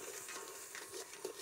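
Mathania chilli paste, from boiled chillies, stirred in a hot pan outdoors, with a soft continuous sizzle and scraping spoon strokes close by, no voices.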